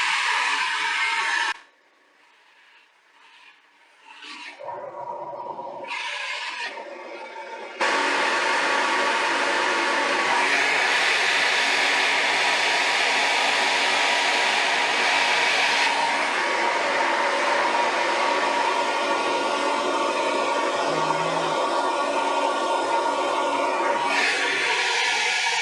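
A hair dryer roars close up while hair is dried at the roots for volume, briefly cutting out and sputtering back on in the first seconds before blowing steadily and loudly for the rest of the time.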